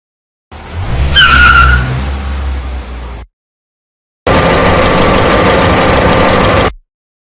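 Cartoon car speeding down an empty street and skidding, a loud engine rush with a sharp tire squeal, then after a short gap a second sustained burst of roaring skid noise.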